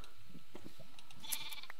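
Faint bleats of sheep in a Minecraft-style video game, a few short cries under a quiet background.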